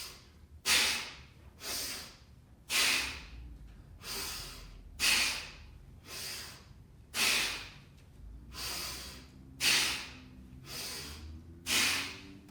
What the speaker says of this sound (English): Inhaling for the bottom part of this circle, exhaling for the controlled pause.